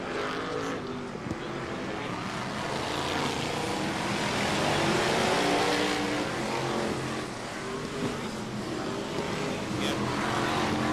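BriSCA F2 stock cars racing at the 1996 World Final, a loud blended roar of many engines running continuously, with a commentator talking over it.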